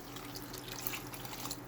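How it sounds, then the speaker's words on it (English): Water poured into a cooking pot, a soft, steady splashing trickle at low volume throughout the short moment. "I'm going to get my 2 cups of water, and I'm going to add that in now too"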